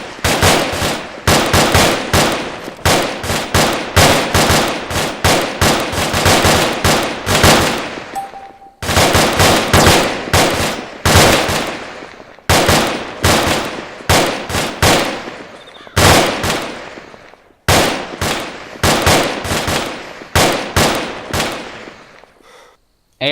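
A fire team opens up with rifles and machine guns in a field exercise, delivering loud, sustained bursts of rapid automatic gunfire close by. The bursts come in long strings broken by brief pauses, with no voices audible over them.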